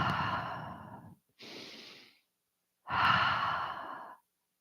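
A human voice imitates humpback whales breathing: three long, airy breaths, the first and last deep and forceful, the middle one shorter and lighter, separated by brief silences.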